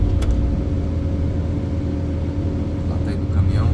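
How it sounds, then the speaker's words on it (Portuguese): A truck hauling rammed-earth wall rubble rumbles steadily nearby outdoors, a continuous low engine drone with no clear rise or fall. "Lá tá indo o caminhão."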